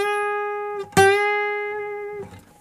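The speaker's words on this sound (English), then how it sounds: "So you want the bend to sound like that." A single guitar note is picked and then bent up a half step, one fret's worth, with a sharp attack just before the second second and a sustained, gradually fading ring with clear harmonics. It plays alone, with no talking.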